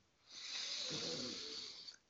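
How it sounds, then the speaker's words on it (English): A slow, deep breath drawn in through the nose, a soft airy hiss that swells steadily for about a second and a half before easing off, close and quiet with no talking. "breathing in through the nose"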